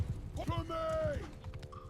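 Horse hoofbeats from horse archers in the video game Bannerlord, a rhythmic run of galloping thuds under a steady game-music tone and speech.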